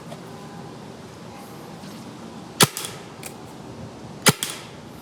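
A 2003 Spyder Xtra paintball marker fires outdoors, two sharp loud pops a couple of seconds apart, each followed by a faint secondary crack, over a steady low background hum.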